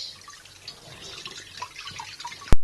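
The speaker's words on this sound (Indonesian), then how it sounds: "Udah aku mau cuci pakai air mengalir ya" Tap water runs in a faint, steady trickle while food is washed under it in a home kitchen before being marinated. Two sharp clicks come at the end.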